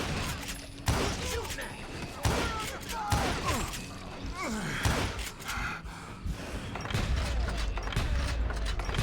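Gunfire in the Call of Juarez Gunslinger video game: scattered loud shots and impacts break through game effects, with gasps and voice sounds in between, and a denser barrage builds toward the end.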